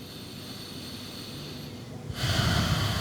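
A deep exhale during a guided breathing practice, first a quiet airy hiss, then a louder, rushing breath out of the nose and mouth close to the microphone in the final second.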